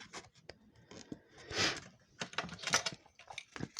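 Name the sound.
peeling the protective film off double-sided tape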